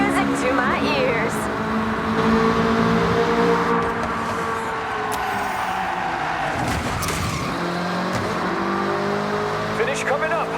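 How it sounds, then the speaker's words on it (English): Race car engines in Forza Horizon 6 rev and drone loudly with tire squeal and skidding, a continuous roar with a voice talking over it. "To blast those engines"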